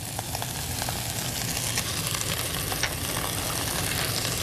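Shallots sauté in a hot pan with a dense, continuous frying sizzle and scattered crackles over a low background rumble.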